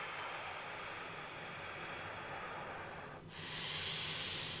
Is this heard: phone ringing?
no